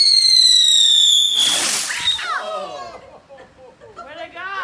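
A firework whistles shrilly, then bursts with a loud crackling explosion, and excited voices and squeals follow nearby.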